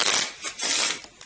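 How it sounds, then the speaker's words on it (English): A deck of Pathfinder Adventure Card Game cards is riffled and shuffled in close, crisp bursts, several quick rustling passes with brief pauses between them. "What I'll do instead is just shuffle the whole lot"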